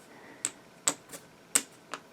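Game tokens for the board game Age of Civilization mixed and shuffled by hand, heard as five sharp, separate clacks spaced irregularly, close and fairly quiet, with no talking.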